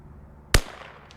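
One sharp, loud crack from a CZ 457 .22LR precision rifle firing Eley Match ammunition at a target range, standing alone with a brief tail of echo and no talking.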